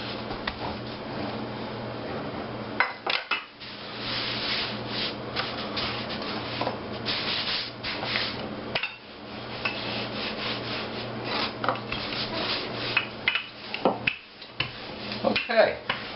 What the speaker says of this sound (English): I can take that other one, roll him out the same exact way.